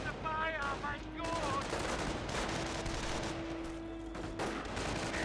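Dense battlefield gunfire from Company of Heroes 1, with overlapping rifle and machine-gun shots rattling steadily through the whole stretch, a high whistling tone at the start and a constant low rumble beneath.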